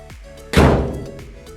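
Custom Altman door latch releasing on the driver's side door of a 1952 Chevy 3100 truck, a single loud metallic thunk that rings out and decays over about a second, with no talk.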